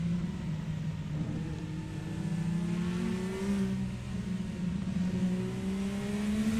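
An IndyCar engine in a racing video game, on the Indy road course, holds a sustained whining drone that climbs in pitch under acceleration, steady and fairly loud with no talk over it.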